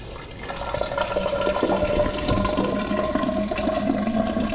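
Distilled water runs steadily into a lab graduated cylinder, making a continuous close pouring and filling rush with splashy texture that lasts throughout, with no talking.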